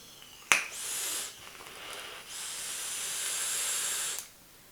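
A long, steady vapor hiss comes from an RH mini atomizer vaping Clovis 814 e-liquid, preceded by a sharp click. The hiss rises, holds for several seconds, then cuts off abruptly.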